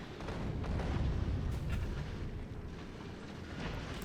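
Rail guns in Factorio firing at Promethium asteroids, heard as a dense, continuous rumble of booming shots and low blasts that blend into a steady roar throughout.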